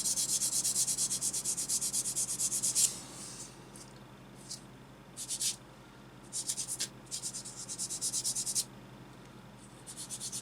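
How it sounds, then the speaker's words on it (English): Close, steady rasping of sanding and smoothing the edges of a small part from an ICM Model T ambulance kit, in rhythmic strokes that pause and resume in short bursts. "Smooth the edges off."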